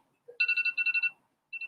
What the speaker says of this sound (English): that's my alarm time